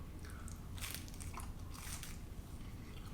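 Someone biting into the crispy edge of a Neapolitan pizza crust, giving a few close crunchy bites over steady room noise with no talk.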